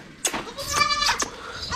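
A sheep bleating close by, a few wavering nasal bleats in quick succession with no talking.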